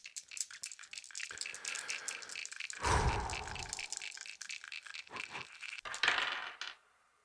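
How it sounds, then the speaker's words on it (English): Dice tumble and rattle across a hard surface, with a busy clatter that builds, a heavier thud in the middle and a final burst of clicks before settling. "I'm going to roll the dice."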